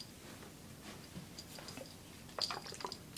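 Drops of fish water conditioner fall into aquarium water for a betta, giving a few faint, quiet drips and ticks over a low hiss, with a small cluster of sharper taps near the end.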